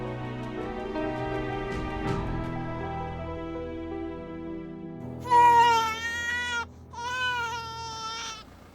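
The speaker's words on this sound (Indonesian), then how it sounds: "Pak, kayak ada suara bayi ya?" Infant crying heard in a tense Indonesian drama scene: two loud, wavering wails arrive after several seconds of low background hum and rumble, each cry sustained and close.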